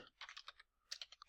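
Keys clack in quick bursts on a computer keyboard as a name is typed, two short runs of close, crisp taps separated by a brief pause.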